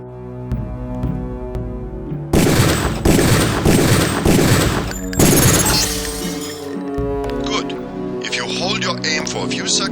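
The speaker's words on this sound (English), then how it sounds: "take a few shots with one of the pistols until it is destroyed" Pistol fire and shattering impacts on a target in the video game Deus Ex, a loud burst of cracking, breaking noise in the middle, then quieter clatter and game sounds.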